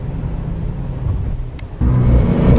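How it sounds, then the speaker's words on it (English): An animated sports car's engine rumbles and revs, a low steady drone that jumps louder near the end, heard alone without talk. "a nice sports car would be a great thing to do that in"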